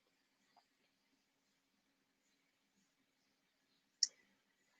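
Two isolated computer mouse clicks while using screen recording annotation tools, one faint early and a sharper, louder click about three and a half seconds later, with near silence around them.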